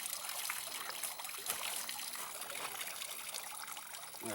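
Water trickling from a small source in the high desert backcountry of Canyonlands, a steady, close, continuous dribble and splash with no voices.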